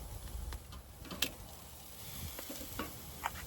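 Seasoned steaks sizzle over a live fire on a grill built from a fire pit, giving a steady soft crackle with scattered pops and ticks.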